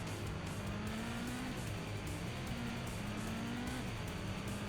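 Race cars in the arcade game TNN Motorsports Hardcore TR, on the Louisiana race, whine with rising and falling engine tones and tyre noise, all faint and thin beneath a steady hiss.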